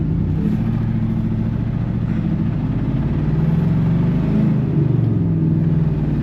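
An old, rusty farm truck drives along with a steady, loud engine rumble and low drone that holds close and constant throughout, with slight swells in pitch as it moves.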